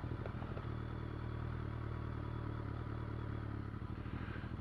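A motorcycle rumbles steadily at close range as it rides over a hump, with a low engine drone and some clatter and scraping running throughout.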